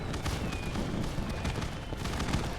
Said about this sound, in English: there's a lot of fireworks